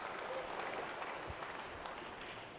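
Applause from a pool match crowd at the 2024 Reyes Cup after a deep screw shot, a steady wash of clapping held at moderate distance, fairly quiet and unbroken.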